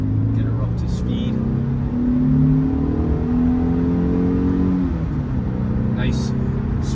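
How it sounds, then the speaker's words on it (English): A 1997 Mercedes-Benz C230 (W202) accelerates on an open road, its engine note climbing steadily from inside the cabin, holding a smooth rising tone for several seconds before a brief dip as the transmission shifts. "I'll show you how it accelerates on the open road. Get her up to speed."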